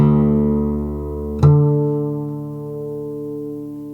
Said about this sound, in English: By effectively cutting the string in half at the 12th fret, we create a sound that is exactly an octave above the open note